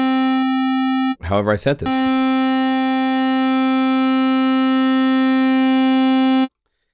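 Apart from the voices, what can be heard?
synthesizer oscillator tone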